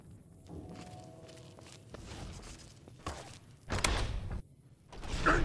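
A door being opened at Black Mountain in Fallout: New Vegas, with footsteps leading up to a solid thump and slide of the door, then a louder, rumbling follow-through close by.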